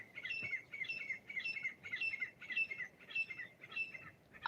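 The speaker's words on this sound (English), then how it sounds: "All right, the birds are talking." Several birds chirp and call outdoors in repeated bright bursts, a steady rhythmic chorus of tweets and squawks at moderate distance with no talking.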